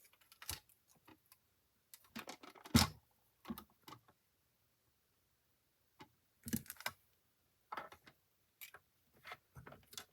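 Paper pieces being cut out for a handmade card craft, heard as intermittent close snips and papery rustles in short bursts separated by quiet pauses, with no talking.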